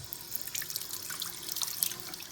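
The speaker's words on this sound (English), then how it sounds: "It's important to rinse them off after done lapping" Lapped steel parts are rinsed under a running tap, with a steady hiss of water splashing into a sink and small irregular drips and spatters, close and continuous without talk.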